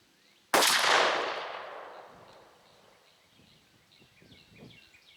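A shotgun fires a Fiocchi Golden Pheasant 2-3/4 inch 1-3/8 oz #5 shell at a pattern target outdoors, one loud close shot whose echo decays over about two seconds, then quiet rustling and faint birdsong.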